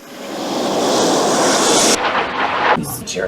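Steady broadband roar of an airplane engine inside the cabin, loud and continuous, easing slightly partway through with faint rustling on top.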